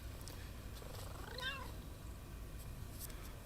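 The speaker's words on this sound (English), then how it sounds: "Oh, kitty. Came to visit me in my room." A pet cat gives a single short rising-and-falling meow in a quiet room, fairly faint against a low steady background hum.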